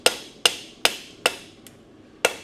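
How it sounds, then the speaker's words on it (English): A hammer rings sharply on a properly mounted blacksmith's anvil while forging metal: six loud, bright strikes in a steady rhythm with a softer tap between the last two, each leaving a short metallic decay, close and alone. "I have the anvil properly mounted, so you can just hammer away."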